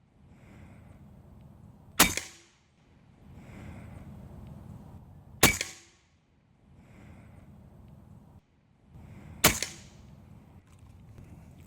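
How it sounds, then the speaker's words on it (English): Three sharp shots ring out from an AEA HP Assassin .30 semi-auto PCP air rifle, evenly spaced a few seconds apart over a soft background rush. "All right, you guys, 1 magazine of this 30 cal right here."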